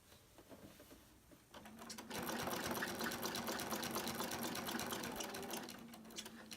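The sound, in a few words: sewing machine stitching a quilt block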